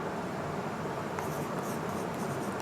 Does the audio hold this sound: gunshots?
no